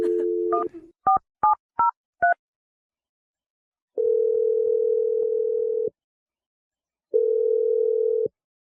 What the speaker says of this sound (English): I'm going to dial it right now.